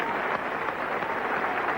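Cricket crowd at Headingley applauding Pakistan's captain reaching fifty in a 1979 World Cup one-day match against England, steady distant clapping and crowd murmur throughout, fairly faint.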